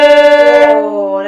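A violin sounds a slightly flat note with the third finger on the A string, bowed in a short series of even pulses before settling into a sustained tone, clear and close with no voice.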